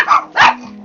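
A dog gives two quick sharp barks close by, followed by a low lingering hum.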